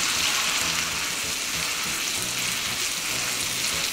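Shaped hamburger patties sizzle in butter in a pan over medium heat, a constant dense frying hiss with no pauses and no voices.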